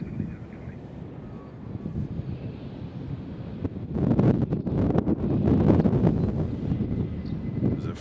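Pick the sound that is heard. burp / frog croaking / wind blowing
wind blowing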